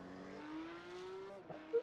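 A Porsche Cup race car on its out lap at the Red Bull Ring in a racing sim, weaving to heat its tyres, its engine note holding a steady rising drone with a brief blip near the end.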